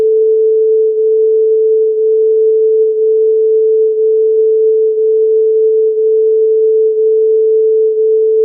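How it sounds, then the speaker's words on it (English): Two pure tones near 440 Hz interfering to produce acoustic beats, a steady loud hum swelling and fading about once per second throughout, with no other sound. "This which we are hearing, this sound is the sound of beat."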